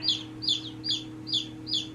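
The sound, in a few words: chickens clucking in a chicken coop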